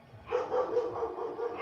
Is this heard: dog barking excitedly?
yes